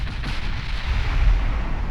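Heavy 8-inch naval guns firing in the naval combat game Ultimate Admiral Dreadnoughts, a loud sustained rumble of blasts and booms with no talk over it.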